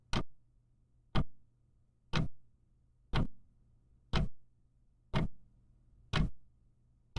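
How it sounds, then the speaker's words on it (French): A giant ebony wood pendulum clock ticks slowly, eight crisp evenly spaced ticks about a second apart, each with a short hollow decay over a faint low hum in a quiet room. "une gigantesque horloge en bois d'ébène égrène les secondes, son pendule se balançant avec un tic-tac sourd, lourd, monotone"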